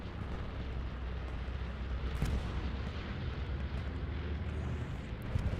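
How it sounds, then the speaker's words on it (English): Bombing run in Hell Let Loose, a WWII shooter in a 35 vs 35 competitive match: a dense, continuous roar of rumbling explosions with a sharper blast near the middle, loud and sustained throughout with no talk. "And here comes a bombing run."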